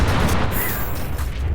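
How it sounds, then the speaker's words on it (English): A loud explosion in the VR shooter H3VR rolls out as a dense, sustained low rumble with crackling debris, close and unbroken. "man, here's a cooler explosion."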